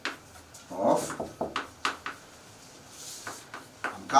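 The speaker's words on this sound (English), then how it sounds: "somebody is knocking" Several sharp knocks on a door, landing in uneven clusters with short pauses between them, heard indoors at moderate loudness with a faint room hum underneath and no voices.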